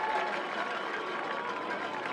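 A football crowd at a St. Francis college game roars in a steady, broad wash of cheering, with a commentator talking faintly over it.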